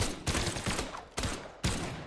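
Rapid bursts of video game gunfire from Brawlhalla, with three loud volleys of shots. Each volley is crisp and ends abruptly, with short gaps between them and no talk over the shots.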